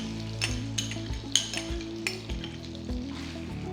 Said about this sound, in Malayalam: ബട്ടർ മെൽറ്റ് ആകുമ്പോൾ നമുക്കതിലേക്ക് ഒരു 3 ടേബിൾ സ്പൂൺ ബ്രൗൺ ഷുഗർ ചേർക്കാം.